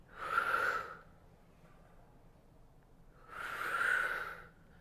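Two heavy breaths during a Pilates reformer workout, each a loud airy exhale lasting about a second with a quiet pause between them, close and unaccompanied by speech.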